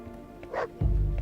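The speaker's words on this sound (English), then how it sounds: "That is our small puppy dog." A small puppy in the Dawn of Man video game gives a short whimper and then a sudden bark, close and fairly loud, lasting about a second.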